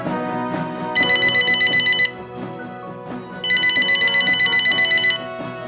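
A telephone rings loudly in two long bursts of rapid warbling trills with a pause between them, heard over steady background music.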